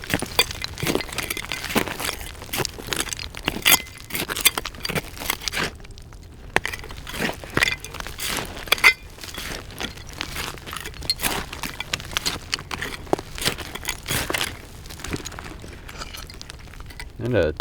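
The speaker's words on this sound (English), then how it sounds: "Plenty of glass in here, that's for sure." Digging through a buried mound full of old glass bottles brings scattered clinks, crunches and scrapes of glass and soil, close and uneven, while someone talks over them.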